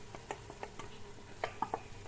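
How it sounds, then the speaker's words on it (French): A spoon stirs meat with tomato coulis in a sizzling pan, irregular clinks and scrapes over a steady gentle frying hiss, close and fairly quiet, with no talking. "Hop, je mélange un petit peu."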